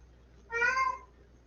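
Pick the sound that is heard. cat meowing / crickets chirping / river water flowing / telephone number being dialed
cat meowing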